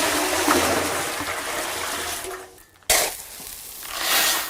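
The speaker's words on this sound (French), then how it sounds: "On commence toujours par mettre de l'eau." Water poured into a concrete mixer drum, a steady broadband rush and splash that thins out, cuts off briefly, then resumes as a lighter trickle swelling near the end.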